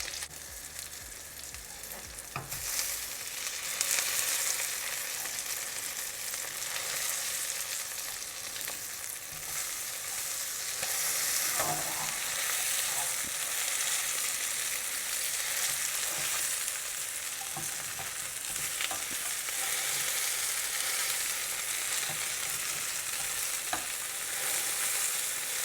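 Pea, feta and mint fritters sizzling steadily in a frying pan, a constant close crackle of hot oil with a few small clinks, no voices.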